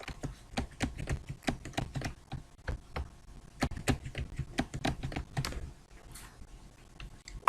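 Fingers type quickly on a computer keyboard with uneven bursts of crisp key clicks, then slow to a few scattered taps near the end.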